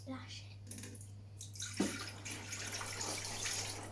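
About 400 ml of water pours from a jug into the bottom of a pot in a home kitchen. The splashing, running stream starts partway through, after a brief spoken word and a faint hum.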